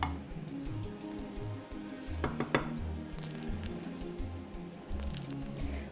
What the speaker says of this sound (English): I'm going to add my banana,